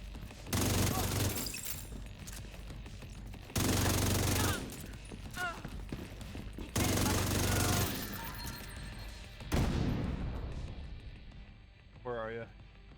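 Heavy gunfire erupts in The Division in four loud bursts of rapid automatic shots separated by short quieter gaps, with faint crackling between volleys.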